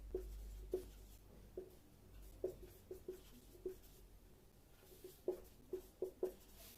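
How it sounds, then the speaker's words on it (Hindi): Pen strokes on paper as answer options are written out, soft and close, with faint scratching and light irregular taps over a quiet room hum and no talking. "ऑप्शन लिख देती हूं।"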